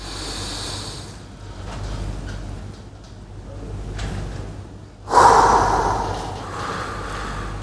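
Forceful breaths out during a breathing exercise, a few strong exhales with one sharp loud burst near the end, close and clear over a low steady hum with no talking.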